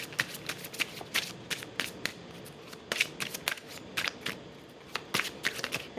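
A deck of tarot cards is shuffled up close, with repeated riffling flutters and quick papery slaps in an uneven rhythm, and no talking.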